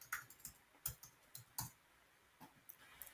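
A computer keyboard is typed on in short, quiet bursts of crisp clicks, with uneven gaps between the key presses. No one speaks.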